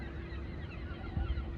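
A goose-like bird honks at the Gloucester docks, a brief low honk near the end, faint against steady waterfront background noise.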